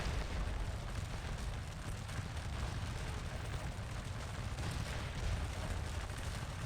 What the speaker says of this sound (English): You gentlemen are firing away quite nicely.